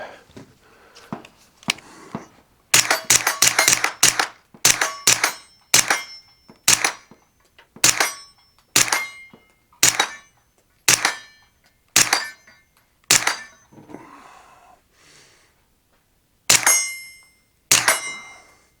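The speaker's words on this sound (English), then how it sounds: "So there's 30 rounds suppressed, and it is running fine." Suppressed gunshots from a Springfield Kuna firearm, a string of sharp, loud cracks fired at a fairly steady pace, with a few quick doubles and a brief pause near the end, each shot ringing out with a short echo.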